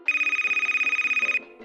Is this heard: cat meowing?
no